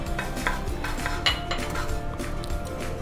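Whole coriander seeds tipped into a hot pan on a gas stove, clinking and rattling against the metal with a spoon stirring, close and busy throughout.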